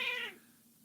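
A house cat gives a single short meow, close and clear, fading quickly into quiet room tone.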